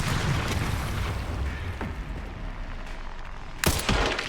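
Mortar fire and explosions in Resident Evil 9: Requiem, a steady rumbling battle din with a sharp, loud blast near the end followed by a second burst.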